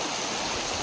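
Steady broadband rush of the Repakeng river flowing, a continuous close wash of water with no clear pauses or voices.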